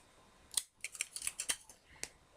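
A piece of Scotch tape is pulled and handled in short, sharp crinkly snaps and peels, several quick close bursts spread over a couple of seconds, fairly quiet and with no voice.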